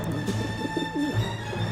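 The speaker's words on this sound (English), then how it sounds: "How am I supposed to get rid of that pigeon?" A pigeon in the video game Syberia: The World Before gives a short, low, throaty coo over a steady humming game ambience.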